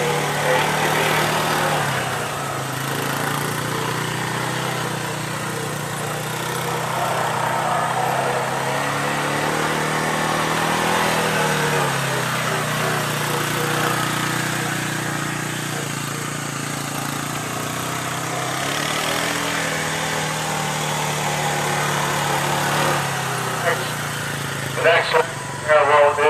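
An ATV engine runs steadily at a fairly close distance during a riding safety demonstration at an agricultural show, its drone continuous and rising slightly as the machine speeds through turns.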